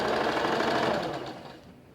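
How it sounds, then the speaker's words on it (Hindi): A sewing machine runs in one steady, close, loud burst while stitching a strip onto a kurti's stand collar, then slows and fades toward the end. "ओके, अब आप अपनी सिलाई लगाना शुरू करेंगे।"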